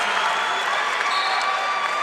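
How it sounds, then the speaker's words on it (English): A college wrestling crowd at an Ohio State versus NC State dual meet cheers and applauds in a dense, continuous roar, loud and unbroken throughout. "You hear this crowd starting to get into it for the first time since 197 pounds"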